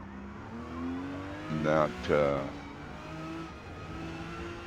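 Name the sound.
Porsche 911 GT2 race car engine in Forza Motorsport video game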